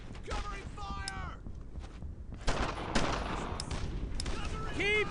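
Video game gunfire in Brothers in Arms: Earned in Blood, with rapid bursts and single shots crackling through a battle in a German-occupied French village, mixed with shouted voice lines.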